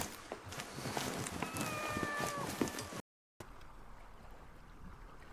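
A cat in The Mystery of the Druids adventure game gives a short, rising-and-falling meow over busy ambient noise, then the sound cuts out briefly before a quieter background hum resumes.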